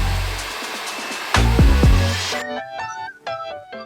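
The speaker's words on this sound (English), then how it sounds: "My hair dryer does have a cool and hot setting on medium and high" A hair dryer blows on its hot, medium setting while natural hair is pressed, a close, loud airy rush with a few sharp clicks that cuts off abruptly, followed by tonal sounds.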